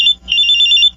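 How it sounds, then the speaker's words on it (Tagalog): A cellphone rings loudly and up close with a bright, high electronic trill. A short burst is followed by a brief gap, then a longer sustained ring. "May tumatawag sa cellphone ko."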